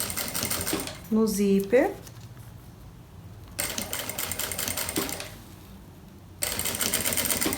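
Sewing machine running a straight seam on a handbag with an appliqué, in short steady bursts of rapid stitching separated by pauses, with someone speaking between runs.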